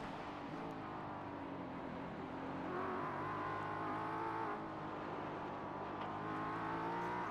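A Ford Mustang and a Porsche race car battling in a racing video game, engines droning steadily and close together with a higher engine note swelling midway, no talk over it.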